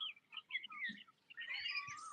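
Small birds chirp faintly in a tree laden with small fruits, giving brief high twittering calls with short gaps between them.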